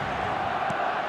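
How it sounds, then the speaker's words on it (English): A dense, loud roar of a stadium crowd cheering a goal in an eFootball match plays steadily and close, filling the moment without a break, with faint commentary beneath it. "the crowd level has gone up a notch or 10"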